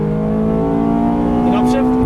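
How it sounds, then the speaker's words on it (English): A Ferrari F430 accelerates hard on a race track, its engine holding a steady, loud, close drone with a slow rise in pitch and no break in the sound. "Then accelerating hard down here, give it all you can."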